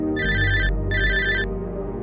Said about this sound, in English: I got a phone call from Ray.